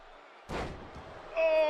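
A wrestler slammed down onto the ring mat at a professional wrestling show, one sudden heavy thud after a moment of near silence, followed by crowd noise and a rising voice.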